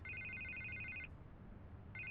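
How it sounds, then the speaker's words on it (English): A telephone rings in the Telltale Batman video game with a clear, loud electronic trill that repeats steadily for about a second, pauses, then starts again, all over a low background hum. "I can't get the phone to stop ringing."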